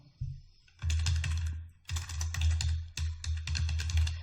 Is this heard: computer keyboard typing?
yes